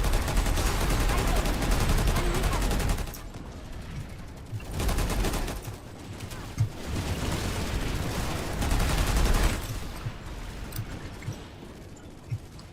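Dense automatic gunfire from the PlanetSide 2 shooter game, with the Terran Republic Naginata, in sustained bursts and rapid fusillades. The firing comes in loud clusters that ease off and then return, with occasional single sharp shots.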